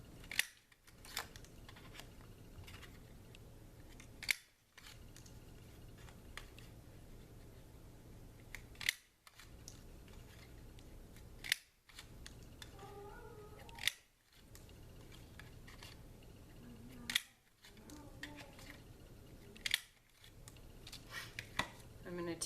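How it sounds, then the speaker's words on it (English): Scissors cut paper hearts in a series of sharp, close snips spaced a few seconds apart, with quiet rustling between them. "I'm going to cut out some hearts"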